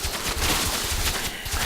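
Photon cannons fire in a StarCraft match between Zerg and Protoss armies, with a dense, rapid burst of overlapping gunfire-like blasts and impacts, loud and continuous throughout.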